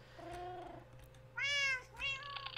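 Cat meows from a Minecraft game: three drawn-out, clearly pitched mewing calls, the first softer and lower, the next two louder and higher, over a low steady background hum.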